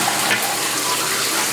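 Toilet flush in a bathroom with a backed-up tub drain, a steady close rush of running water throughout, loud and continuous without speech.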